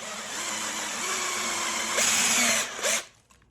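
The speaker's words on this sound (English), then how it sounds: "the drill has suddenly locked" Power drill boring through a metal base plate for a motion simulator platform, a steady whining grind that rises in pitch near the end before the bit suddenly locks and the noise cuts off.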